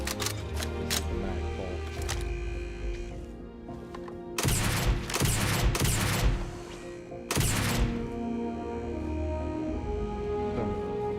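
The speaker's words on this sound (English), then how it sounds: "Coil, it's a rail gun essentially." A rail gun fires in the video game Starfield, giving sharp, crackling discharges with several quick shots early on and then a few longer, louder bursts over steady background hum and music.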